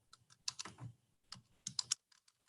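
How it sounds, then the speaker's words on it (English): Close keystrokes on a computer keyboard as text goes into an Excel spreadsheet cell, two quick bursts of clicking separated by a short pause. "In cell A1, we're going to type in"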